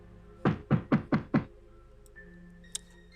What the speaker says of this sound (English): I go up to the door and knock.